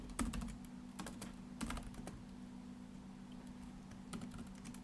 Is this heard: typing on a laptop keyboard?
yes